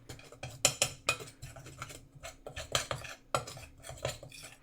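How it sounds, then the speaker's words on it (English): Cayenne, garlic powder and salt get stirred together in a bowl, a spoon scraping and clinking in quick uneven strokes, close and alone. "Give it a mixy mix."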